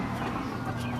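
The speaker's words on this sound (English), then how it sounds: "I may have to get a chicken out of here" A chicken clucks steadily indoors at close range, a continuous fowl chatter filling the short moment with no voices over it.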